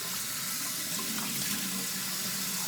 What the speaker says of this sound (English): I just splash my skin with a douse of cold water.